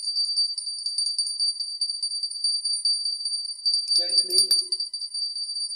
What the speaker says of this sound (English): then we ring the bell